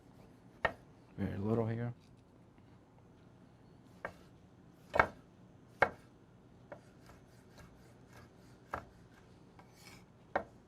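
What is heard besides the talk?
knife chopping small tomatoes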